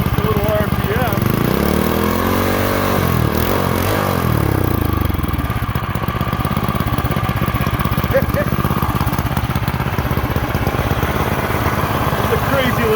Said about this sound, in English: It's a crazy little engine.